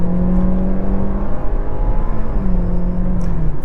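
A 2021 Hyundai Elantra SEL with a CVT accelerating hard, engine droning and rising in pitch with simulated shift steps, loud and close from inside the cabin.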